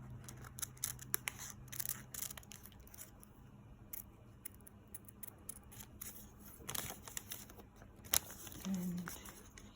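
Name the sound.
scissors cutting out a miniature dress pattern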